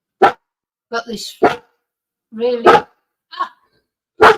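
A dog barks at a neighbour in short, sharp, close barks spaced irregularly over a few seconds, with a person speaking briefly between them and hushing the dog.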